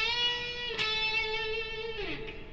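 A distorted electric guitar holds a single bent note on the 14th fret of the G string, re-picked once, before the bend is released and the pitch drops, with nothing else heard and no voices.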